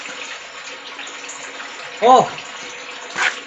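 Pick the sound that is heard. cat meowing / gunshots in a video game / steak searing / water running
water running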